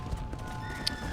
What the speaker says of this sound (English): The horse.